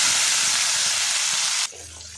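Chopped tomato, half of one large tomato, hits hot oil in a pan and sets off a loud, steady, close sizzle that cuts off abruptly after about a second and a half, leaving quieter background sound.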